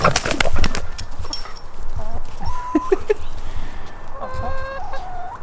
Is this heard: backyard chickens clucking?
yes